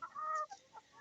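A chicken in a backyard coop gives a brief run of close, quiet clucks, a couple of short throaty calls and then faint murmurs.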